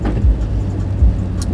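A car drives through traffic in a loud, close, steady road rumble, with brief low thumps and no voices.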